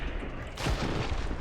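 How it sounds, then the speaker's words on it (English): A double barrel shotgun fires once in Killing Floor 3, a sudden loud, close blast that leaves a dense rumbling tail of game noise behind it. "it's a double barrel shotgun"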